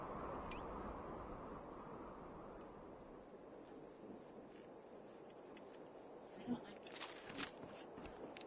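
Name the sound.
cricket chirping in the video game Fallout 4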